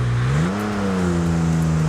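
A car engine in the Underground Garage video game revs in a steady, loud droning hum that rises briefly in pitch and then settles, with no talking over it.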